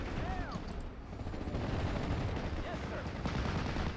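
Dense rattling machine gun fire and battle noise fill a Normandy 1944 scene in the strategy game Steel Division, loud and continuous with someone speaking over it.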